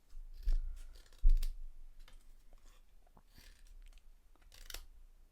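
Paper pieces from a Christmas craft kit being cut out with scissors, giving close, crisp snips and small clicks at irregular intervals, with a couple of louder cuts near the start.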